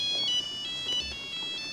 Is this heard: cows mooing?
no